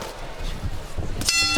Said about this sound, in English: Listen for the bell, gentlemen.